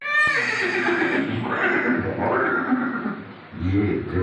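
Chetak, Maharana Pratap's horse, neighs loudly in a museum scene, a long whinny followed by more snorting and horse sounds, with a voice talking over it.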